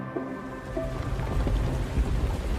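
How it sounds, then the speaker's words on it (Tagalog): Heavy rain pours steadily in a dense, rushing wash, with a deep low rumble that swells toward the end, like rolling thunder. "bumuhos ang malakas na ulan"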